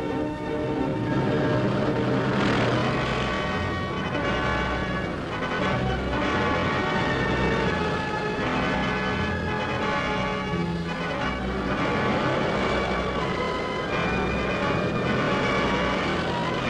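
Engines of World War II bomber squadrons taking off for the front over Western Europe, a loud steady roar of many aircraft droning together throughout, with a slightly worn archival quality.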